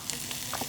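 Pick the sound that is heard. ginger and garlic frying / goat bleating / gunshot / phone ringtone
ginger and garlic frying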